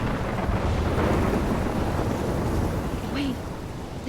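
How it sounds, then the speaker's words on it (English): A thunderstorm rages in the Life is Strange video game: a heavy, continuous rumble of thunder and wind-driven rain fills the space loudly and without a break. "I'm trapped in a storm?"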